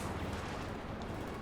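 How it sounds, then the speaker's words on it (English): Faint, dense gunfire and explosive bursts from a Panzer Headquarters in the World War II strategy game Company of Heroes 2, a continuous muffled battle rumble without talk. "Panzer Headquarters opening fire."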